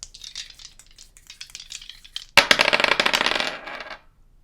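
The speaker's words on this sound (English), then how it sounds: "I will start off with the astrology dice" A clatter of small dice tumbling and rattling together for about a second and a half, bright and close, after a quieter stretch of faint shuffling; no voices.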